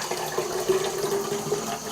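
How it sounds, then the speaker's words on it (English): Liquid film developer pours steadily out of a 35mm black-and-white developing tank into a sink, a continuous close splashing stream with no speech. "And I'm going to dump that out."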